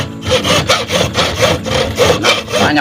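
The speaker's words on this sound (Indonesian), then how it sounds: "Ya oke, kita bakal gergaji si sutet ini." A hand saw cuts through a steel rod taken from a transmission tower, rhythmic back-and-forth rasping strokes, roughly two per second, loud and close with no talk over them.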